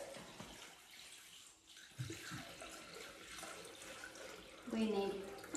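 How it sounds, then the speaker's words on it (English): Water runs and splashes steadily into a Thermomix bowl, a continuous close pour with a brief gurgle near the end. "So I'm going to put in some water"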